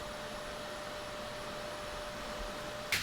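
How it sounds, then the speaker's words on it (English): A vacuum cleaner drones steadily, drawing grime, dirt and dust out of the fabric of an old painting's canvas in a restoration studio, with a brief sharper hiss of suction near the end. "I can use the vacuum to suck out all of this grime and dirt and dust that's on"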